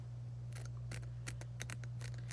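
Scissors snip out backing pieces for a tree stump gnome craft: a string of crisp, close cuts in uneven rhythm over a low, constant hum.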